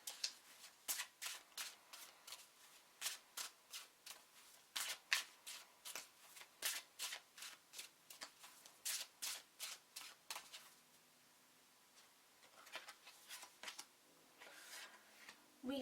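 Sacred World Oracle cards riffled and shuffled by hand in a long run of quick, crisp papery bursts, close and fairly soft, thinning out toward the end with no talking.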